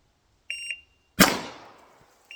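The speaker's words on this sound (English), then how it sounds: "I'm going to set my timer." Shot timer on a shooting drill gives one short electronic beep, followed by a loud, sharp gunshot that rings out and decays, with the start of another beep at the very end.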